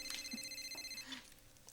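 A cell phone rings in a home, a repeating electronic ringtone chiming at a steady moderate level with no voices over it.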